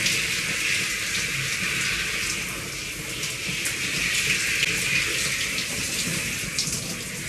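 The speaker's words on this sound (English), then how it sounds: "Quick 30-second rinse should suffice." Running water rinsing conditioner out of hair, a steady, loud and close rush of spray from a tap or shower that runs unbroken throughout.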